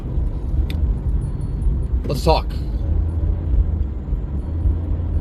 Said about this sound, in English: Sitting in traffic a while here, even on the way back home.